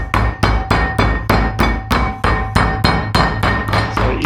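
A meat hammer pounds a chicken breast flat with about a dozen steady, evenly spaced thuds, loud and close, with no talk.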